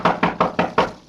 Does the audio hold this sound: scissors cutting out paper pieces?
no